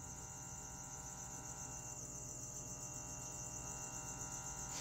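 Live feeder insects chirp from inside a freshly opened package, a steady, shrill, continuous trilling held at an even, fairly quiet level throughout, no talking.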